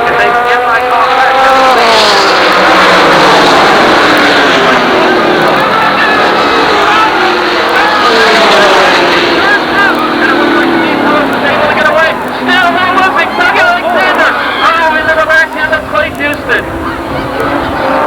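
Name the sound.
super late model stock cars racing around the speedway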